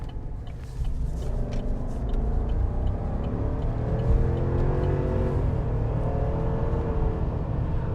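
A 2021 Chevrolet Silverado Z71 Trail Boss pickup accelerating, a steady low engine rumble building with rising tonal sweeps as it revs, heard from close by with no talking.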